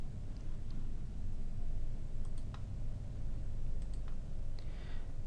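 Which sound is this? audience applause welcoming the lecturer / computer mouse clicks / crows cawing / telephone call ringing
computer mouse clicks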